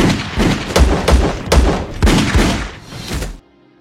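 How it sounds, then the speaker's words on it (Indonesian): A sheriff fires on a man named Coyote in an action film, a burst of five or six loud, heavy gunshots in a fairly even rhythm, each one booming close up before the sound cuts to near silence. "untuk Coyote terpaksa si Sheriff tembak karena dia juga mencoba"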